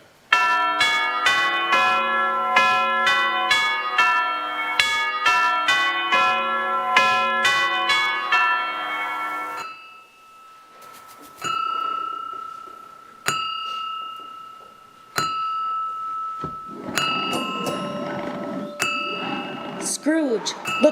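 A stage clock bell strikes midnight in a community theatre production of A Christmas Carol, ringing about a dozen evenly spaced, loud, resonant strokes, then giving way to sustained chime tones and scattered clinks.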